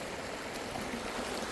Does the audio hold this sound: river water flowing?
yes